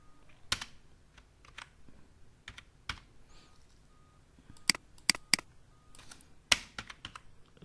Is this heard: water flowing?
no